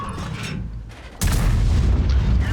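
Cannon fire from a Grille 15 tank destroyer in a tank battle video game: one sudden heavy boom, close and loud, followed by a sustained low rumble.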